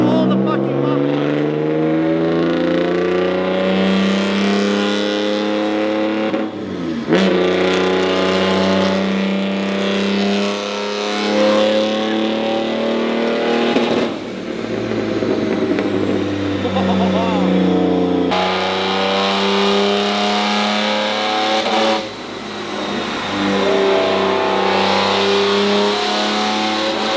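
A Porsche-engined Subaru, the Porscharu, roaring on a dyno with long loud wide-open revving pulls, each rising then cutting off briefly before the next, very close and dominant throughout.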